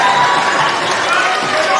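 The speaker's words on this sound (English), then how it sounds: "So the crowd getting up and about here" Close crowd at a tied under-17 men's basketball game, South Australia versus New South Wales, cheering in a loud, steady roar.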